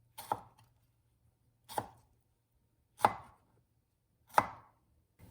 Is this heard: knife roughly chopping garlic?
yes